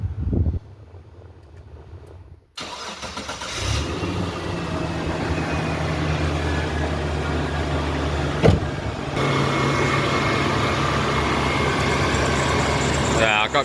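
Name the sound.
Mitsubishi Triton engine starting and running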